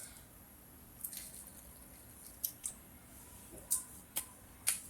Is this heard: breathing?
no